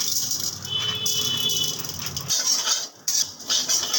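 Whole coriander seeds dry-roasting in a dry pan for tawa begun make a steady, close rattling and skittering, with a brief lull near the end before the dry clatter resumes.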